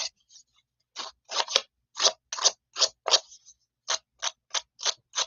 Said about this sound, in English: we are going to rough up those edges just a little bit more so that it really gives it some texture